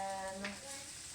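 Onions and jalapeno sautéing in a pan, a soft steady sizzle heard briefly beneath a low musical tone.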